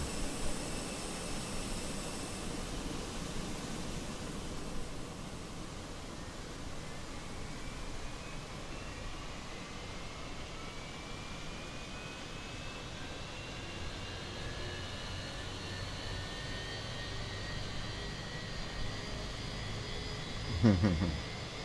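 An Airbus A320 engine 1 spooling up in a flight simulator, a steady airy whine rising slowly in pitch under a broad hiss, with a brief click near the end.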